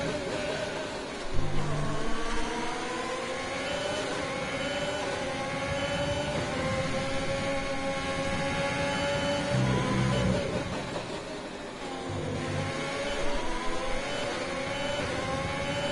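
A simulated F1 2020 race car engine drones steadily at high revs throughout, its pitch rising and falling through gear shifts, with no voices over it.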